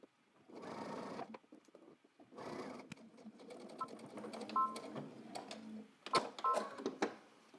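A sewing machine stitches a welt pocket on a men's trench coat in bursts: two short runs of whirring motor, then a longer rattling stretch with clicks and a few brief tones, close up and without talk.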